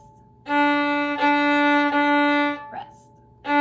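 A single low bowed note on a violin's open D string sustains evenly, the bow changing direction a few times, then stops and starts again after a short rest.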